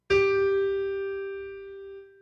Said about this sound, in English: Here's the G note, and it sounds like this.